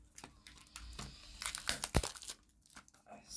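A sealed plastic Temu package is torn open by hand, with crinkling and tearing that build into several loud rips in the middle, then fade to softer rustles.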